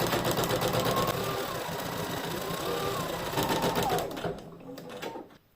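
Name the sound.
embroidery machine stitching satin finishing line on terry towel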